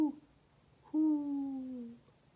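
A human voice imitates an owl hooting during a bedtime story: one short hoot, then a longer, drawn-out falling "hoo" that is clear and close, with no other sound around it.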